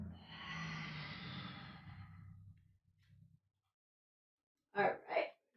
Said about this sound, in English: And lion's breath for 2 more, sticking your tongue out. Letting all the breath go.